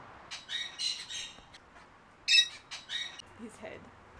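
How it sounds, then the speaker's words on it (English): A macaw lets out several harsh squawks in short bursts, moderately close, amid quiet ambience at a site that mixes ancient ruins, a museum, gardens and a small zoo in Ecuador. "There's a macaw."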